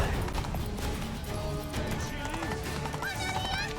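A horse gallops under its rider in The Witcher 3: Blood and Wine, with steady, close hoofbeats running throughout, while game music and a brief voice sit in the mix.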